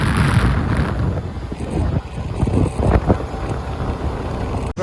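Honda Activa 6G scooter cruising along a highway on a long ride, with steady wind rush buffeting the microphone over a low, continuous road and engine drone, loud and close throughout.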